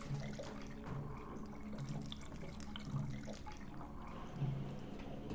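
Water rushes steadily in the Deadly Premonition video game, down a flooded stairway at a lumber mill. It is a constant, full, splashing flow, like a tap running hard, with no voices over it.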